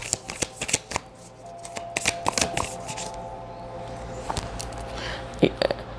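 Akashic oracle cards are shuffled by hand in a run of quick crisp riffles and taps, close and clear, with soft handling noises between them.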